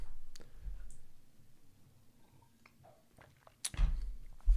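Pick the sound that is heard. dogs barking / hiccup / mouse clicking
mouse clicking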